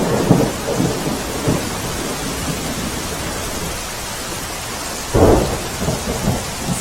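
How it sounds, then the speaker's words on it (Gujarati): Heavy monsoon downpour in Umarpada, Surat district, a steady loud wash of rain on surfaces with deep rumbling thunder swelling near the start and again toward the end. "ઉમરપાડા તાલુકામાં સવારે 6 થી 8 વાગ્યા સુધીમાં 4 ઇંચ જેટલો વરસાદ ખાબક્યો"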